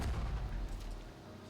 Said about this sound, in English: A massive explosion rings out.